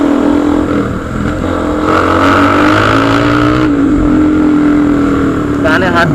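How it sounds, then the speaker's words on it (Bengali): Motorcycles, including a Bajaj RS 200 and N16 bikes, ride in a group on a road. A loud, continuous exhaust drone varies in pitch as the engines rev, close to the listener, with talking over it. "সেই লেভেলের এক্সজস্টের সাউন্ড হয় গাইজ"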